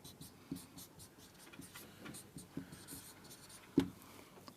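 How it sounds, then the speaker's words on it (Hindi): A marker squeaks and taps across a whiteboard in a classroom-style lesson, faint short strokes in an irregular rhythm with one sharper tap near the end, no talking over it. "यहां मैं लिख देती हूं"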